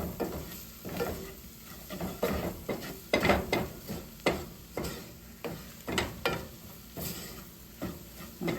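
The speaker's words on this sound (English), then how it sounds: "Mix the flour in there." Flour being mixed in a bowl for shrimp and grits, heard as a steady run of soft scraping strokes in a repeated rhythm, close and fairly quiet, with faint sizzling beneath.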